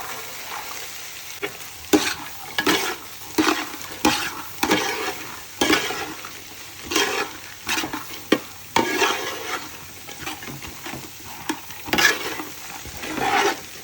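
Eggs and vegetables fry in a hot pan for egg fried rice, a steady sizzle broken by frequent rhythmic scrapes and clacks of a stirring spatula, close and loud with no talking.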